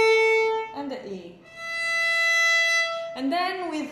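A bowed open E string on a violin gives a bright, steady held note lasting over a second, framed by the tail of a lower bowed note and short bits of speech before and after.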